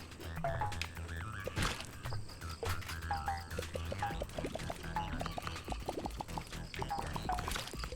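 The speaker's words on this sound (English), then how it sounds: "Crazy mud frogs." Mud frogs in the video game Patch Quest croak in repeated short bursts over a busy, continuous game soundtrack, with no talking.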